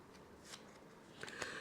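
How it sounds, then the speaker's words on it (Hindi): Tarot cards drawn from a deck during a Capricorn reading, giving a few soft papery slides and flicks, quiet and close, with no talking. "अब मैं अगला कार्ड कैप्रिकॉर्न मकर राशि वालों के लिए लेता हूँ"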